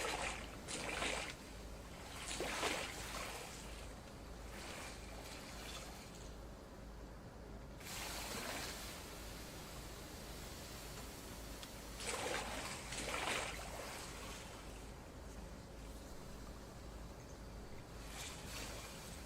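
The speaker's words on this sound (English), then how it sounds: "I thought it was making kind of a flushing sound" Rushing, sloshing water like a flush in the VR game Pools, swelling in several loud surges between quieter stretches of running water, fairly close, with no talk.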